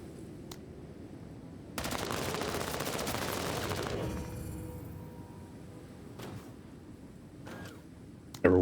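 A chain gun in the video game Menace fires a loud, dense burst lasting about two seconds, then trails off into quieter background ambience with a few faint clicks.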